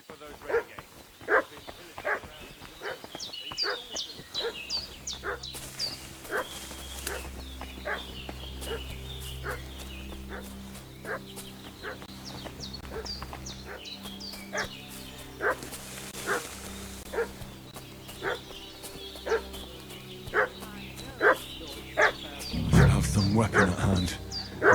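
Dog barking repeatedly in Kingdom Come Deliverance 2, sharp barks at a steady rhythm over a low droning background, moderately near and carrying on throughout.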